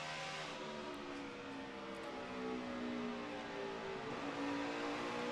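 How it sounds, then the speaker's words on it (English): NASCAR Sprint Cup stock car engine at Bristol during final practice, a loud steady V8 roar with shifting harmonic whine as the car eases on and off throttle, continuous through the whole moment without talk. "Just listen how little bit you're in the throttle, how early they roll out."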